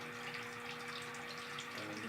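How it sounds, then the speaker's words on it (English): Bathtub faucet running steadily into a clogged drain as the water backs up, a constant close rushing hiss with no pauses, alone and without voices. "flip the water on, and see the water immediately starts to back up in the drain"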